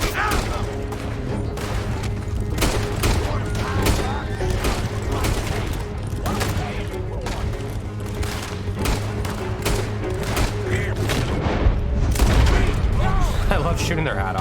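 Rapid gunfire in Red Dead Redemption 2 rings out as dense volleys of shots through a chaotic firefight, with overlapping bangs and booms continuing throughout.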